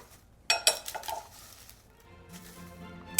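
Pasta is tossed with grated Pecorino Romano cheese in a bowl that is a bit too small, giving a few close clinks and scrapes of utensils against the bowl followed by soft stirring rustles, with no talking.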